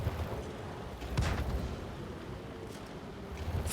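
Tank guns fire HE shells in World of Tanks, heavy booming blasts rumbling over a dense low battle din, with one stronger shot near the start and no talk.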